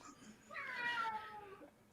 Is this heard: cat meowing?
yes